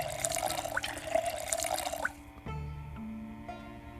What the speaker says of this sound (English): Let's fill our water bottles.